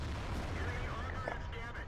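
A tank gun fires in World of Tanks from a JPanther II tank destroyer, a heavy booming blast that rolls on as a low rumble under a constant dense wash of battle noise.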